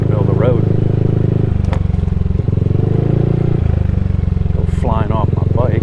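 A motorcycle rides along a typhoon-hit road strewn with debris at the old Clark Air Force Base, its engine droning steady and loud throughout, with brief rattles and someone talking over it.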